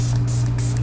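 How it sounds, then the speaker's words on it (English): A Milani Make It Last setting spray releases a short, close burst of fine mist, heard as an even, breathy hiss with no talking. "I like the fact that it's a very fine mist"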